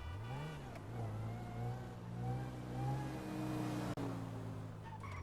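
A car engine in GTA Online holds a steady drive with rising and falling revs and gear-like pitch sweeps, loud and continuous, with one sharp click near the end.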